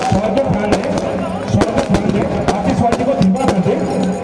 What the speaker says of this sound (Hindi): आतिशबाजी को धीमा कर दे।